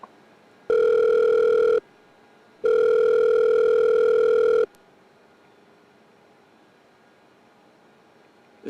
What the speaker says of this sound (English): I dial her number again, hoping she's picking up this time.